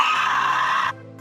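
A single loud, strained scream from the anime Overlord holds for almost a second, then cuts off abruptly, leaving a lower, fainter tone behind.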